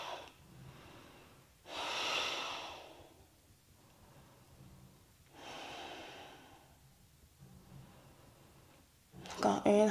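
Slow, deep breaths during a seated relaxation exercise, with two long audible inhale-exhale cycles in a quiet room, then a short burst of voice and movement at the end.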